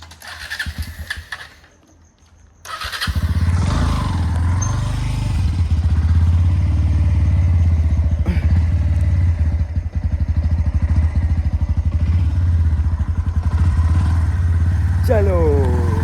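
A motorcycle starts after a brief hesitation, then settles into a loud, close, steady running thrum with a rattly texture that holds to the end; a voice is briefly audible early on.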